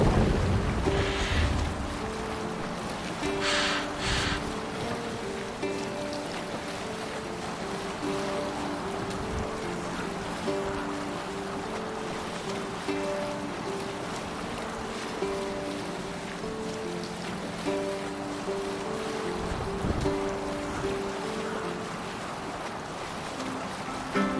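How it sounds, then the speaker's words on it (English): In Assassin's Creed Valhalla, a Viking longship is rowed through open water, with a steady wash of waves and sea surf under faint rhythmic creaks and splashes, continuing unbroken with no talk. "We must row in these waters."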